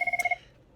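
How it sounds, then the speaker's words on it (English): A mobile phone going off mid-lecture gives a short burst of fast electronic trills, five or six quick pulses with a small click in the middle, then stops abruptly. "That's my phone going off."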